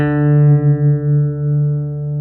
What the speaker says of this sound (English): you can also use a harmonic at the 12th fret